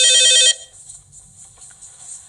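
A telephone rings loud and close with a rapid trilling bell for about half a second, then cuts off as an incoming call is picked up, leaving only quiet room noise.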